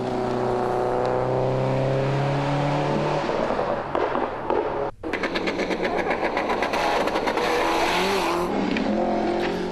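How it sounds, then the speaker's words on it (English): A Subaru rally car engine revs hard and loud, its pitch climbing through gears, then a sharp cut and a burst of crackling, popping engine noise. "their sweet-sounding Subaru"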